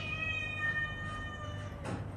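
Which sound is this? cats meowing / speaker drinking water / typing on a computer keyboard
cats meowing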